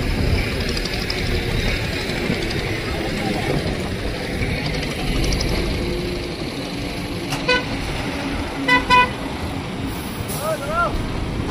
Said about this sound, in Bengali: যানবাহনগুলিও এক এক করে এখান থেকে প্রস্থান করবার চেষ্টা করছে।